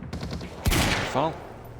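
Gunfire in the video game Quantum Break, a quick rattling volley followed by a sharp louder blast and a short tail of shots, with a voice briefly audible amid the shooting.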